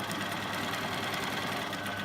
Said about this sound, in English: we're doing straight stitching, following this second line along the edge of the fabric